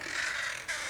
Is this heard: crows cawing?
yes